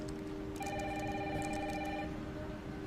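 An indoor telephone rings once with a steady, bright electronic trill that is moderately faint and heard alone against a quiet room background.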